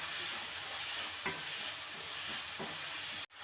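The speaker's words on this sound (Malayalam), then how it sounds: "കുറച്ച് വെളിച്ചെണ്ണ ഒഴിച്ച് അതിലേക്ക് ഇതാ ഉള്ളി ഇട്ട് വഴറ്റി കൊടുക്കുന്നുണ്ട്" Onions sautéing in coconut oil with a little salt for chicken biryani, a steady close sizzle with two soft stirring scrapes partway through and a brief clunk near the end.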